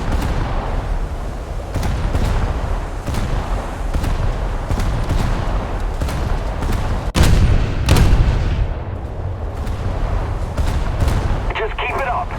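Old naval guns fire at a dam in a video game. Heavy booms and cracks repeat in quick, irregular bursts over a dense, loud rumble, with a voice talking beneath them.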